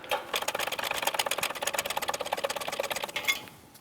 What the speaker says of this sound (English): Now that the bearing's making its way down and out of here, it's going to come out a lot easier